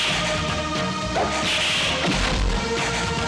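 Whip lashes from the Bollywood comedy Chaalbaaz land amid a thick, loud mix of music and effects, giving a couple of sharp cracking strikes within a few seconds.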